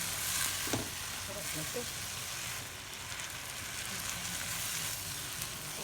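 Bean sprouts and shrimp sizzle and fry with soy sauce in a pan as they are stirred, a steady crackling hiss with light scraping, while a voice speaks briefly over it.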